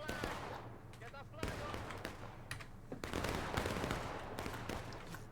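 Dense gunfire rattles through a Civil War–style battle in a strategy game, with bursts of rifle volleys and crackling shots layered thickly over one another, loud and continuous with brief lulls.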